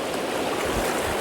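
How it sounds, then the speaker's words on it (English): A small, cold river runs in a steady, close rush of broadband water noise, brief and unbroken. "We probably crossed this little river like"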